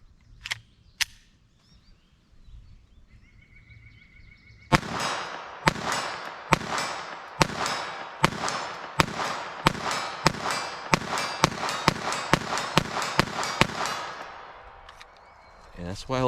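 Rapid shots from a firearm firing Remington .38 Special 158 grain semi wadcutter rounds ring out loud and close, a string of about fifteen sharp cracks in a fast irregular rhythm after a few scattered early pops, with a voice talking.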